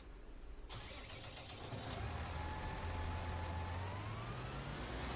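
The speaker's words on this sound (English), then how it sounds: "Turn that engine off." A diesel farm vehicle engine in Farming Simulator 19 idles loud and steady, its low rumble settling into a continuous hum after a brief shift near the start.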